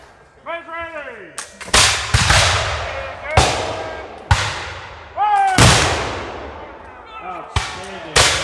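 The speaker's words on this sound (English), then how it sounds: "hard to use muskets to fire with regularity" A series of loud, sharp black-powder musket volleys from an 18th-century reenactment unit, about six booming reports spaced a second or so apart, each with a long echoing tail, while shouted commands come between shots.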